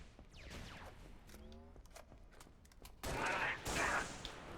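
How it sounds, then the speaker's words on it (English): Gunfire in Halo: Reach, faint scattered shots at first, then louder rapid bursts of weapon fire close by in the final seconds. "Yo, stop shooting at me."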